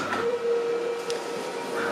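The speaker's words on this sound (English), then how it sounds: "This is the printer laying down the second ink surface" A t-shirt printer lays down a second layer of white ink, a steady mechanical hum and whir with a faint whine running throughout at close range, no voices.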